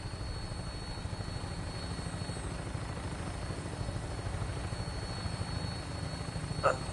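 Vertibird aircraft lifting off in the video game Fallout 4, a steady droning rotor and engine rumble holding even throughout, loud and close with no talk over it.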